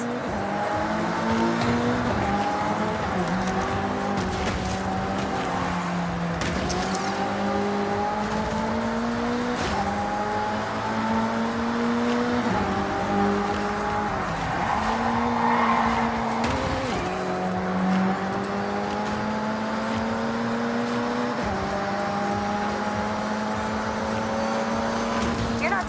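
Race cars in the Forza Horizon 6 video game roar at high revs, with engine pitch repeatedly climbing and dropping through gear shifts and a hint of tire squeal, loud and continuous throughout.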